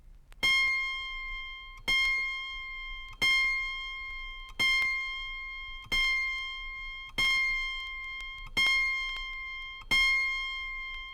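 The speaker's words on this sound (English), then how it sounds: "The A sharp in the higher octave, the 34th string, should sound like this." Eight steady plucks of the high-octave A sharp on an autoharp, the thirty-fourth string, each a bright, thin, close note that decays quickly, alone with no talk.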